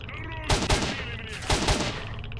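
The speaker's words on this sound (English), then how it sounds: "I fire off a volley, and then I die because I have to reload." A volley of gunfire in STALKER: Shadow of Chernobyl comes in two loud paired bursts, two close shots followed by a pause, then two more, each with a short echoing tail.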